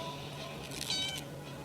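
A single short cat meow in the survival video game 60 Seconds, faint and high-pitched, heard over a low steady background hum.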